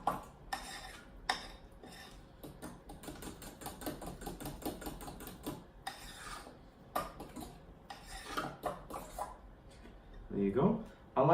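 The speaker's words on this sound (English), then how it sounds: "I like to finish up the mixing process just with a spatula, just to, incorporate any flour lumps" Banana bread batter is stirred with a spatula in a bowl, producing soft scraping and clacking strokes in an irregular rhythm, close and moderately loud, under intermittent talking.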